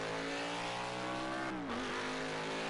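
Race cars at the EchoPark Texas Grand Prix at Circuit of the Americas throttle up out of the final turn of the road course: a steady, loud engine roar with a rising, then dipping pitch, distant and continuous.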